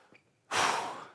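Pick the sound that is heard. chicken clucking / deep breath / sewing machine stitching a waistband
deep breath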